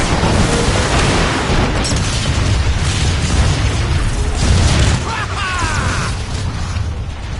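Metroplex fires weapons in the Transformers: Fall of Cybertron video game, with dense, loud booming blasts and explosions rolling continuously, the roar swelling midway and then easing slightly.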